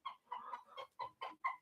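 A rooster nearby gives a string of six or seven short, throaty clucks in an uneven rhythm, loud and clear with nothing else underneath.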